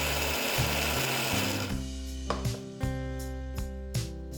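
A mixer grinder blends coconut, jaggery and salt for poha chutney, a dense whirring that settles into a steady motor hum with repeated clicking knocks near the end.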